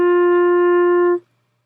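A B-flat clarinet holds a steady open G with no holes covered, one clean sustained tone lasting just over a second before stopping abruptly, alone and close.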